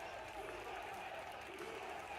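Sustained crowd applause from a fighting game event, a dense steady patter of clapping that stays at an even level throughout, with a faint murmur of voices mixed in.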